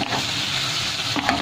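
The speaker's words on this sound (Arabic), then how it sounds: "هنايا غادي نبقى نصوتي في هذا الحوت ديالي حتى ينشف من الماء" Fish seasoned with salt, pepper and cumin stirs and fries in a pan, giving a steady, close sizzle with faint scraping of the stirring, no voices.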